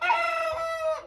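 Seven-week-old American Bresse pullets give a single drawn-out, tonal call close by, heard on its own with no talking.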